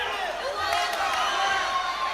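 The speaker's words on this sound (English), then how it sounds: "The crowd enjoying every moment." Crowd noise at a martial arts championship, a steady broad roar of cheering and voices that holds at an even level throughout, with some raised whoops briefly rising above the wash.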